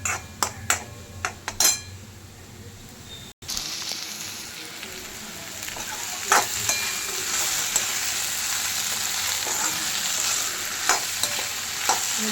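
Okra (bhindi) frying in a pan, a steady close sizzle that builds after a few sharp clinks and scrapes of stirring, with occasional spoon knocks against the pan and no talking.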